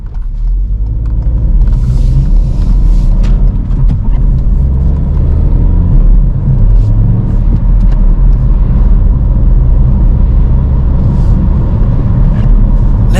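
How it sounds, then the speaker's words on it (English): Manual car accelerating toward 60 mph with quick, smooth upshifts, a loud continuous engine rumble and road drone from inside the cabin, with slight shifts in pitch through the gear changes. "For a quick smooth gear change up, I press the gas before lifting off the clutch completely, so that I don't let the revs drop down too much"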